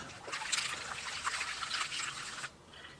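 Water is poured onto dry dirt in a gold pan, making a soft, steady trickle and splash up close that runs for about two and a half seconds, then cuts off.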